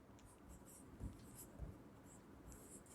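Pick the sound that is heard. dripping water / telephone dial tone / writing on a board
writing on a board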